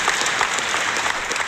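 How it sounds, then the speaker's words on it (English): Brief burst of dense applause from a group, steady and fairly loud for a second and a half with no talking over it. "you deserve all the applause."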